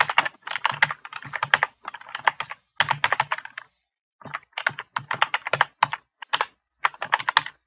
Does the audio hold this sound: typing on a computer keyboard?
yes